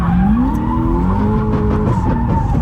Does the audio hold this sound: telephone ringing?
no